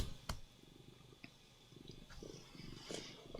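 A cat purrs close by, a faint low rhythmic rumble running steadily under scattered small clicks and rustles.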